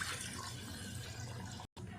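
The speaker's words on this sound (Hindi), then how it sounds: "चले हम इसमें पानी डालते हैं। पानी में 1 गिलास डाल रही हूँ" A glass of water is poured into frying curry masala for an egg and potato gravy, a soft steady liquid rush with a brief break near the end.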